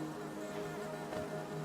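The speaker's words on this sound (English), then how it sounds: "We need our little bees. Little bees, come up here." Bees from the game Hollow Knight give off a soft, steady insect drone, faint and continuous over a low background hum, with no voices.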